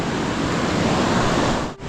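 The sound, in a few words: river water flowing during wading across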